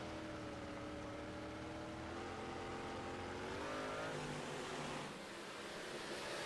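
Modified race cars roar around an oval track in a Thursday Night Thunder event, several engines droning together near and loud, pitch sweeping up as they accelerate through the laps with a steady, dense wash of noise.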